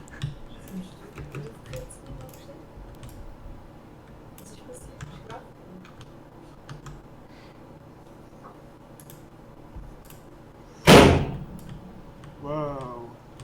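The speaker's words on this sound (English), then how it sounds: "That was the door." One sharp, loud door bang stands out near the end, over soft background talk and small clicks.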